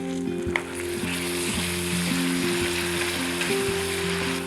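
Red chilies and a finely chopped medium tomato fry in hot oil, giving a continuous hissing sizzle with faint spoon stirring. A steady low electrical hum runs underneath, and no one speaks.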